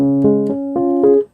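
A piano plays a single low A-flat in the left hand beneath a sustained right-hand chord, with four soft re-struck attacks ringing over about a second before quickly cutting off.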